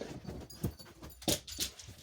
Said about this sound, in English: Dogs are freaking out.